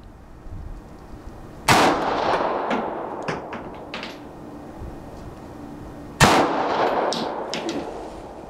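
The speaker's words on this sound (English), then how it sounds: "even though I'm shooting it over a rest, I can tell the gun handles very nicely" Two sharp reports from a Smith & Wesson 9mm Equalizer pistol fired over a rest, each a loud crack with a ringing tail and scattered clinks between the shots.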